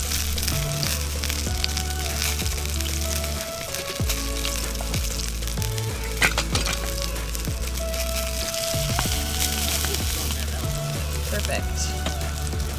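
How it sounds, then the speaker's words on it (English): Salmon frying in a pan on a camp stove at Cape Spencer, a steady close sizzle that runs unbroken throughout, with intermittent low clunks and faint voices in the background. "salmon's been cooking for a few minutes here"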